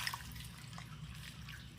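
Water drips and trickles softly into a red wiggler worm bin, faint and close, with a few light splashes early on and a low background hum.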